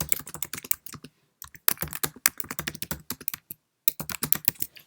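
Quick, crisp keystrokes on a Mac computer keyboard, typed in close bursts with brief pauses between words, heard up close and alone with no talking.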